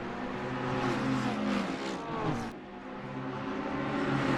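Race cars launching at a green-flag start on the Nürburgring GP circuit in Assetto Corsa Competizione, a loud pack of engines revving and rising in pitch together, with gear-change sweeps as the field accelerates away.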